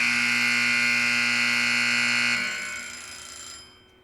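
A timer alarm buzzes loudly and steadily in a continuous high electronic tone for over two seconds, then cuts off and fades to quiet.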